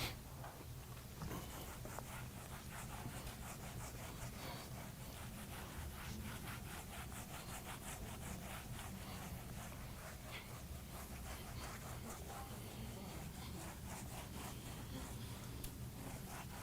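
Steady rhythmic rubbing of an eraser or duster across a lecture-hall board, a continuous scratchy back-and-forth stroking that runs unbroken and fairly close for the whole stretch, with no talking over it.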